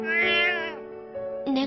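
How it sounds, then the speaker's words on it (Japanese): A cat meows in a video game, with one long drawn-out meow followed by two shorter ones, clear and close with no talk. "猫、"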